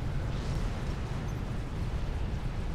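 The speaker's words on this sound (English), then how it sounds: "the enemy is setting up artillery positions behind my base," Enemy artillery shells pound a base in the real-time strategy game Supreme Commander: Forged Alliance, a continuous dense rumble of overlapping explosions with heavy low-end booms, steady and loud throughout with no talk.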